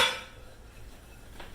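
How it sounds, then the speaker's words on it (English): Fritter batter gets stirred in a bowl, a spoon scraping and clinking against the sides in a continuous close-up swirl with a louder clatter at the start. "And we're going to mix this up a batter."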